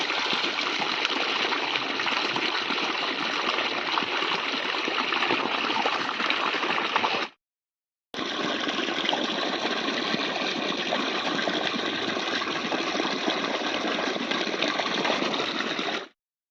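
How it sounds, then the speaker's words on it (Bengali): Water flows on its own from under the ground, a steady rushing stream that continues without pause. It cuts out for about a second midway and then resumes. "অটোমেটিক মাটির তল থেকে জল বেরোচ্ছে।"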